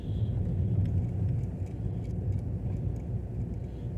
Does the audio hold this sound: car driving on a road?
yes